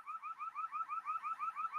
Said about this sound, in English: The alarm, it looks like it's only coming from the ATM machine